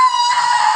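A voice imitates a horror-movie scream in one short, loud, high-pitched shriek that is sustained and strained, heard alone with no other sound.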